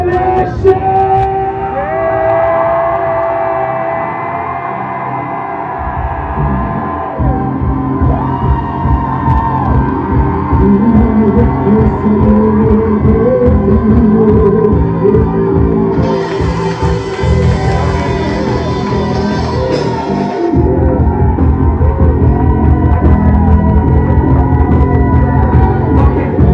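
A church congregation cries out together in loud, sustained prayer, many voices blending into a dense continuous roar for the whole span, with a sharper swell partway through.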